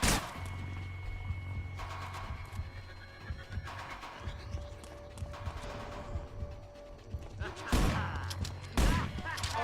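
Enemy gunfire in the video game Manhunt, a few sharp broadband shots breaking through a tense, droning game soundtrack, with louder bursts near the end.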